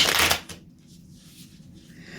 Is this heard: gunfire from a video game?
no